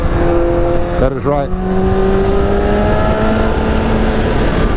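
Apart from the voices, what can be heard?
liter sport motorcycle engine revving, throttle twist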